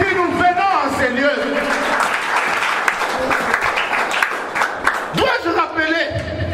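A church congregation applauding for the Lord during a sermon: sustained, dense clapping with raised voices calling out over it, then the clapping tapers off.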